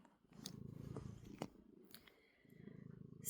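Fudgy, a pet cat, purrs in a steady low rumble close to the microphone, with a few brief clicks and rustles interrupting it midway before the purring resumes.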